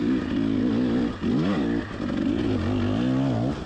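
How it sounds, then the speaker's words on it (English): Motorcycle ridden on a steep hill trail through a tricky left turn, its engine droning loud and close throughout with rising and falling revs as the throttle is worked. "had to kind of plant my foot and try to pivot there a little bit to get the bike to turn"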